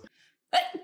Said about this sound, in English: I'm gonna sneeze.